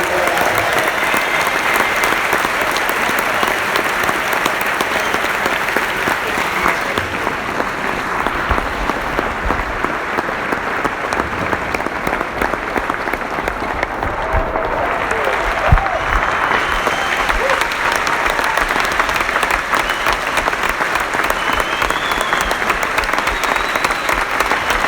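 A large audience in Melbourne applauds Dr. Jordan Peterson at a live talk: loud, sustained clapping that fills the whole stretch evenly, with faint crowd noise mixed in.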